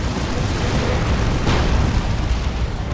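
A tank blows up during a Dawn of War 2 battle, a dense, roaring blast of explosions and rumbling booms that fills the whole stretch, loud and continuous, with no one talking.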